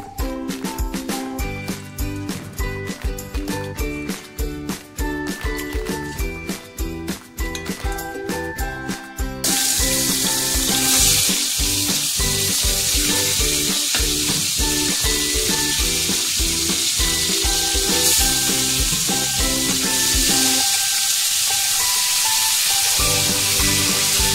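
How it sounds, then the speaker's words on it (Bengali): Koi fish, rubbed with salt and turmeric, frying in hot oil, a loud continuous sizzle and spatter close by that thickens into a dense roar partway through, with no talking. "আমার ভাজা হয়ে গেছে, হালকা ভাজলাম মাছ, ভেজে নিলাম।"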